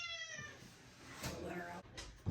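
A cat meows briefly in a busy indoor setting, the call rising through harmonics near the start, with voices and room noise continuing around it.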